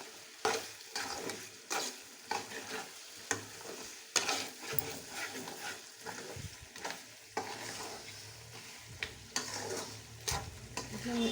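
Ground masala is added to chicken gravy frying in a pan and stirred in, with repeated rhythmic spoon scrapes and clinks over a constant soft sizzle.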